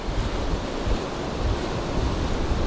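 Steady, loud rushing water from a waterfall near Skelwith Fold on the River Brathay, a broad continuous roar with no voices.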